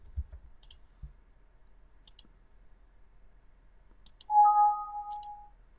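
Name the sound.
computer mouse clicking in SolidWorks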